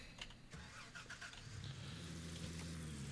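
An in-game pickup truck engine in Gold Rush starts with a few sputtering turns, then settles into a steady low idle rumble that holds to the end, moderately loud and alone.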